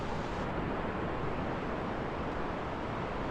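Sea waves breaking along the Bagda beach shoreline in Balasore, Odisha, a dense, constant roar of surf with wind noise, loud and unbroken throughout.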